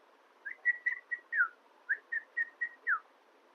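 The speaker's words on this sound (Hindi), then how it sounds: "बहुत अच्छी सीटी बजाता है ये" A pet bird named Piku whistles a series of about ten short clear notes, some rising and some sliding downward, in an irregular rhythm against a quiet room.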